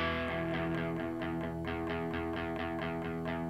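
Open low E string on an electric guitar, struck repeatedly in a steady rhythm, each pluck ringing into the next with a sustained, slightly distorted tone, close and alone.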